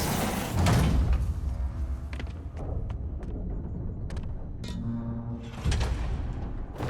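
A hidden door grinds and slides open in Marvel's Spider-Man on PS4: a heavy mechanical scraping rumble that swells, eases off, then surges again near the end, close and fairly loud.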